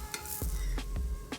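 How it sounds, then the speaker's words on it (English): A spatula scrapes and flips coconut French toast in a skillet, giving a brief sizzle with a few sharp scraping strokes up close. "I'm going to use my spatula, and I am just going to flip this baby over"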